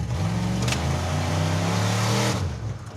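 A Mazda car engine revs hard as the driver floors the accelerator, a loud, close, sustained roar with strong low rumble that holds for about two seconds before easing off.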